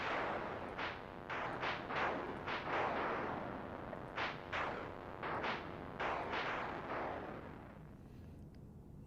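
Gunfire in the Saint Billy: Red Summer video game: a string of sharp shots, first in quick clusters, then a pause, then another rapid burst, over a low continuous background.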